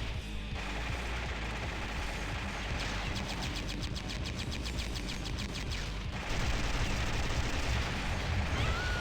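Machine gun fire in the Metal Slug video game comes as rapid, even bursts of gunfire over a dense, loud game soundtrack, with a steady rattle standing out across the middle of the clip.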